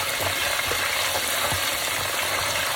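Fish frying in a pan of hot oil at home, a dense, steady sizzle that carries loudly and continuously with faint crackles and no talk.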